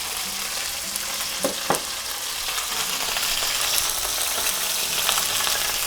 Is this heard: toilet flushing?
no